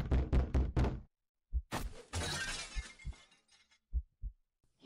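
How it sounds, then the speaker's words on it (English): Door being torn off its hinges in a horror scene: a burst of sharp knocks, then a harsh scraping, splintering crash, followed by scattered dull thuds at close range. "You flinch harshly at the sound of the door being rubbed off its hinges"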